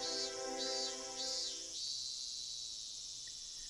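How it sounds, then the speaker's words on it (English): Cicadas in the video game Higurashi When They Cry: a high, shimmering insect drone that pulses in waves over soft tonal background music, which cuts out midway and leaves the buzzing alone and fading. "the voices of the cicadas sounded like they were coming from some faraway world"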